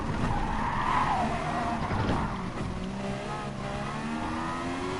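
Race car in Gran Turismo racing over a lake, engine droning with shifting pitch and tyres squealing through a skid, steady and fairly loud with no talk over it.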